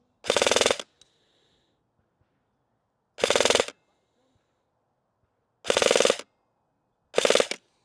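Airsoft gun fitted with an MR Hop firing BBs outdoors in a headwind, four sharp, loud shots spaced a few seconds apart, each a short crack followed by near silence.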